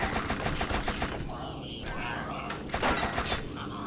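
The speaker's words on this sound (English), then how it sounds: "Why are you shooting at me?" Enemy gunfire in the shooter video game You Are Empty: rapid repeated automatic shots crackling at a steady fast rhythm, loud and dense, mixed with game noise throughout.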